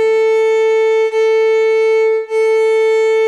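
A fiddle's open A string bowed in a long, steady sustained tone, clear and close, with two brief dips where the bow changes direction.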